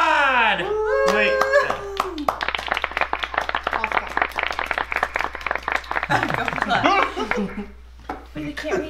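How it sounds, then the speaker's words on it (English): Close-up clapping, dense and rapid, with voices chattering and a child-like voice over it, starting after a brief bit of speech. "Everybody give MP3 Chaos a round of applause at our new mod!"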